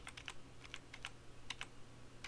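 Computer keyboard keys pressed one at a time, quiet, close clicks in an irregular run of about a dozen taps, with no talking.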